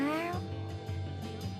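A cat meows once in the video game Tales of Xillia 2, a short rising cry at the start that fades into game music and ambience.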